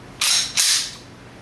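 A Glock pistol's trigger gives two quick, sharp mechanical clicks in close succession, crisp and near, then quiet.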